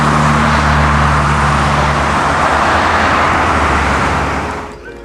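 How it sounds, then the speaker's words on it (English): Constant roar of traffic along a city waterfront, a loud, dense wash of passing cars and heavier vehicles with engine hum underneath, steady throughout before easing off at the very end. "our waterfront and the constant roar of traffic"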